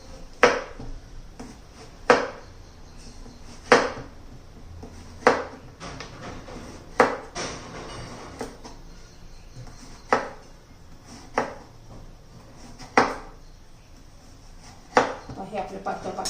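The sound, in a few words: knife cutting bottle gourd into thin slices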